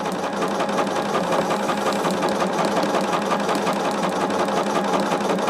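Domestic sewing machine running steadily and close by, its needle carrying an extra rhythmic knocking after striking a pin, the mechanical chatter continuous with no talking.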